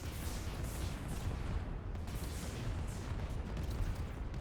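Dense, sustained weapons fire in the video game AI War 2 forms a continuous rumbling roar of overlapping blasts and booms at a steady level. There is no talking.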